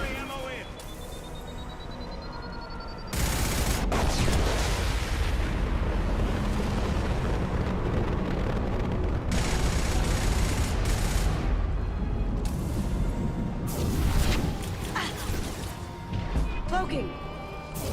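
Gunfire and explosions in the video game Mass Effect, with heavy bursts of shooting and booming impacts that come in waves over a sustained loud battle, while voices call out over the combat.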